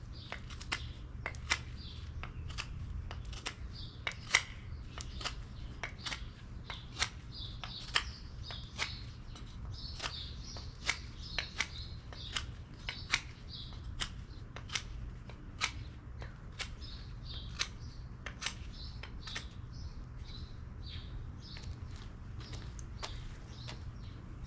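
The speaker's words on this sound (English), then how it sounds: "we'll be able to make a sharp point onto the tip of the pine wood" A Mossy Oak knife carves a sharp point onto a piece of pine wood outdoors in the woods, making a steady run of crisp scraping strokes while birds chirp faintly in the background.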